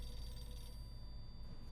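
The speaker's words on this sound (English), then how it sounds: "A phone call." In the video game Eternal Darkness, a telephone rings with a repeated electronic trill, faint and brief, heard on its own without speech.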